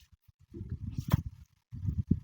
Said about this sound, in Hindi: भैया घोड़ा क्या कर रे?